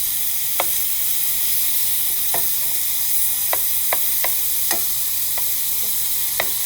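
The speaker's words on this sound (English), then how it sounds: "I just want to show you how well the meat moves on the pan." Meat fries in a Kutime nonstick pan with Italian seasoning. A loud, steady sizzle hisses throughout, with about eight sharp scrapes and taps of a utensil spaced irregularly, close by and without talking.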